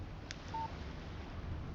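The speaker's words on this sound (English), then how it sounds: "Text message from Barry." A short electronic text-message chime from a phone in the video game Alan Wake Remastered, a single brief tone over steady background noise.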